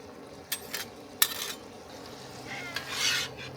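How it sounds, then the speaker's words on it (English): Meat with Szechuan sauce being stirred and reheated on a Tembo Tusk Skottle griddle: a soft sizzle underneath, with a few sharp metal spatula scrapes and clinks at intervals, fairly quiet and close. "We're just giving it one last heat up to make sure all the meat's warm."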